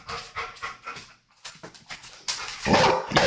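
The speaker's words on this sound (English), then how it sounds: "You're barking at me here now." A pet dog barks and pants close by in a string of short, loud yelps and huffs.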